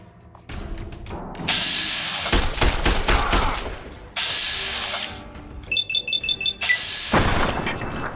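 Rapid automatic gunfire and shots in Fallout: New Vegas with the Viva New Vegas mod at Camp McCarren, loud repeated bursts and fusillades with staccato rattling volleys.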